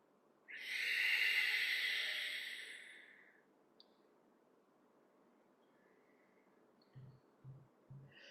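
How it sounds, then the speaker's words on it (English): A long, complete exhalation during breathwork practice, a loud breathy rush that builds quickly and trails off over about three seconds, followed by quiet and three soft low thumps near the end. "Exhale completely"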